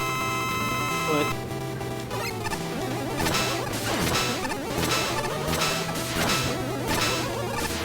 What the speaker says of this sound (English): You have to break the glass before you can even do damage to it.